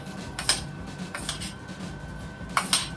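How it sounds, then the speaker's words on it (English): Rigatoni pasta being stirred in a metal pot, giving a few scraping clinks at about half a second, again around 1.2 seconds, and a sharper pair near the end over a low steady kitchen hum. "I'm gonna mix up the rigatoni"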